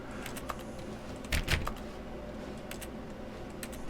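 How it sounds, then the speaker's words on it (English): Computer mouse clicks while playing The Stanley Parable, a scattering of quiet, close, sharp clicks with a brief louder cluster of taps near the middle, set against faint background hum. "I'm just clicking on everything now."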